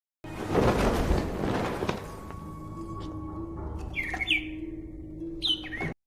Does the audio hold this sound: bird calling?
yes